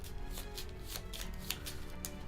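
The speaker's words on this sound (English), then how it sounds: "I'm just shuffling the dark card deck here" A deck of dark game cards for the Oathsworn board game being shuffled up close, a steady run of soft riffling flicks and slaps repeating for a couple of seconds with no talk.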